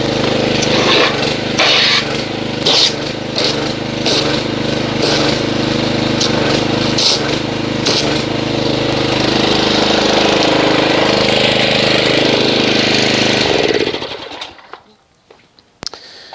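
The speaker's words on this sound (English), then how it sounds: "let me get the pressure washer, agitate this, and see what kind of foamage we get" A pressure washer sprays foam wash onto a vehicle, a steady loud hiss and motor drone running continuously with small fluctuations, then cutting off abruptly near the end, leaving faint clicks and quiet.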